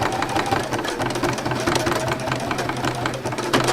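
Sewing machine stitching in thread painting on a landscape piece, a steady fast mechanical rattle of the needle running continuously at close range.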